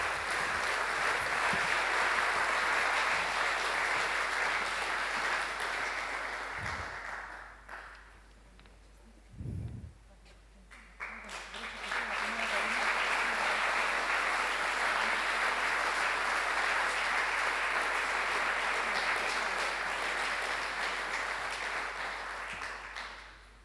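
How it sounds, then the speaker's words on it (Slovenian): Sustained audience applause at a municipal ceremonial session in Kungota, a long, even wash of clapping that fades briefly in the middle, then swells again and continues steadily. "hvala vam, ki ste mi zaploskali"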